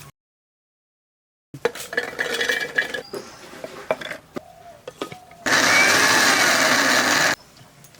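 An electric kitchen blender grinds cumin, garlic and ginger in a loud, steady whirring burst lasting about two seconds, with clattering kitchen handling sounds before and a quieter hum after it stops.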